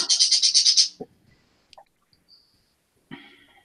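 Birds chirp in a rapid burst of about eight high twittering notes, loud and close, then a few scattered faint chirps and a second shorter call near the end.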